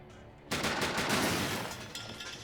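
A gunshot in the SteamWorld Heist video game, one sharp loud report that bursts in after a quiet moment and trails off into a rumbling, echoing decay.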